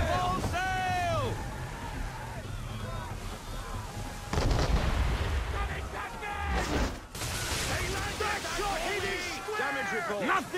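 Assassin's Creed 3 sailing ship out at sea, with rushing wind and water under a roar of cannon fire and shouted crew orders throughout.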